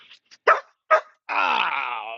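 A neighbour's dog gives two sharp barks, then lets out a longer drawn-out whine or howl, close by with no talking over it.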